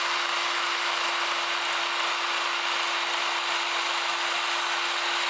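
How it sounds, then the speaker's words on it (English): A steel hand scraper dragged in short straight strokes across a cast-iron way of a Thompson surface grinder during restoration, giving a steady, loud hissing rasp with a constant tonal hum running underneath and no talk. "When you're scraping, you want to make individual straight marks."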